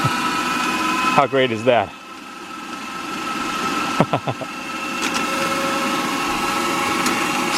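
A micro hydro power turbine, recently repaired after months broken, spinning fast with a steady whirring hum and a constant tonal drone. Short bursts of speech sit over the sound.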